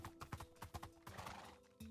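A horse in a Roman-themed video game world, quick clopping hooves followed by a whinny, fairly faint and close with no talking.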